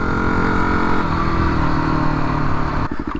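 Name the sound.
Yamaha WR250R motorcycle engine revving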